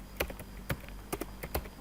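Keys tap on a computer keyboard while HTML list code is written, a handful of close, distinct clicks in an irregular rhythm over a quiet background.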